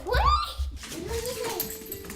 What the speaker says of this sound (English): Buddy plays like any other dog